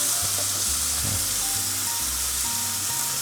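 A ribeye steak sizzles and fries steadily in a hot pan, a close, continuous hiss with low thumping bumps and faint tonal hums underneath, no voices.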